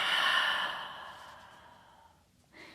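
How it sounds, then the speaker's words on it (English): A long audible exhale during a yoga forward fold, a breathy sigh that starts strong and fades gradually over about two seconds, followed by the start of a fresh breath at the end. "And exhale, fold."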